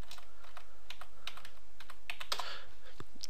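Rapid typing on a computer keyboard, close and crisp, a quick irregular run of clicking keystrokes with a brief louder flurry near the middle.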